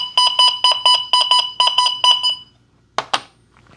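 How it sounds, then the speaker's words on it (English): An XP Deus 2 metal detector responds to a silver quarter with a loud run of rapid, bright beeps in clipped bursts, then falls quiet before two sharp clicks. "You have a silver quarter, won't sound any different, I don't think"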